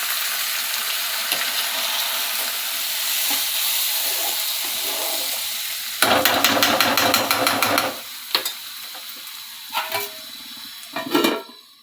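Small potato pieces fry in a pan, giving a continuous sizzle. Partway through comes a loud burst of scraping and stirring that lasts about two seconds, followed by a few shorter stirs.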